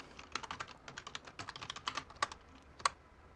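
Code is typed on a computer keyboard in VS Code, a rapid, irregular patter of close key clicks in quick bursts with a few harder taps, no voice over it.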